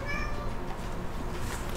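A cat meows a few times early on, with thin rising harmonic cries set against a dense, steady wash of noise that stays loud throughout.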